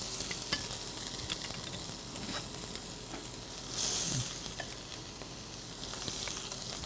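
Cooking oil heats in a pan before shrimp go in, giving a soft, steady sizzle and hiss with a slightly louder swell midway, quiet and close, with no talking.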